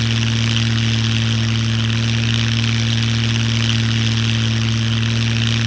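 A plane engine in a video game drones steadily at close range with a strong low hum and a broad, even roar, unbroken and alone for the whole stretch.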